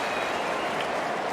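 A stadium crowd at an Australian football match lets out a broad, steady wash of applause and cheering, loud and distant-sounding, sustained without a break.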